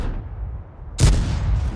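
A World of Tanks cannon shot strikes an Object 140 tier 10 medium tank: one sudden, heavy booming impact after a quiet moment, followed by a rumbling tail.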